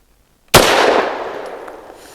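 A single close, loud shot from a Rock Island Derya Arms Melik pistol fired double action with a light frangible load, a sharp crack after brief silence followed by a long ringing decay outdoors.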